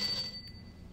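A single bright bell ring in the Gabriel Knight 2 adventure game, a short clear ding that quickly fades, heard alone at low volume.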